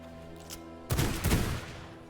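Pistol fire in a steampunk vampire video game: a faint early crack, then a loud close burst of shots that trails off over a low background hum.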